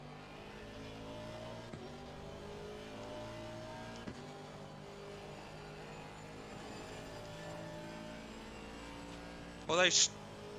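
Race car engine in Assetto Corsa Competizione droning steadily throughout a track lap, with a brief louder squeal near the end; a voice talks faintly over it.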